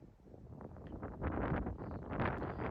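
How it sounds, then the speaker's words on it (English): Strong wind gusting across an open golf course, buffeting the microphone in loud, uneven rushes that swell midway and stay rough to the end. "As you can see, the wind here also is quite strong coming at this"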